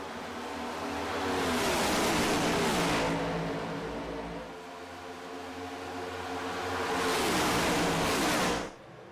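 Race cars roaring around the Atlanta oval just after a green-flag restart: a loud, continuous engine drone that swells twice as packs of cars pass close by, then fades at the end.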